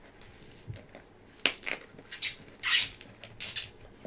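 Plastic caps and lids being screwed back onto glue bottles, a condiment-style refill bottle among them, give a string of short plastic clicks and scrapes, close and moderately loud, with the sharpest bursts late in the sequence and no talking.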